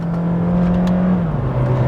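A Honda Fit Hybrid climbing a small road, its engine droning steadily up close as a loud hum, with the pitch dropping slightly near the end as the load shifts.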